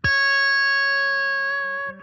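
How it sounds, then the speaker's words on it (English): Single distorted electric guitar note picked on the 14th fret of the B string, struck hard and sustaining evenly for about two seconds before tailing off, heard alone and close. "I'm gonna play it 14th fret on the B string."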